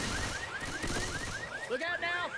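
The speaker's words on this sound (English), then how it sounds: "Chris decides he needs more of a challenge for his team and shoots the car alarm" A car alarm in a video game, triggered by a gunshot, whoops in a fast repeating rising pattern and then switches to a warbling tone, heard at a moderate distance.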